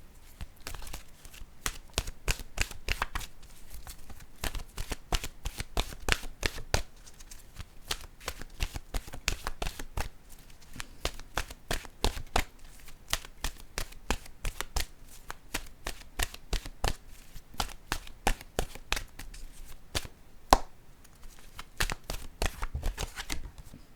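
Oracle cards are shuffled by hand in a quick, continuous run of crisp riffling snaps for the whole stretch, loud and close with no talking.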